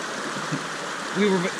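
A creek flowing fast at a river crossing on a backpacking trail, with a steady rushing wash of water close by and a brief voice or tonal sound near the end.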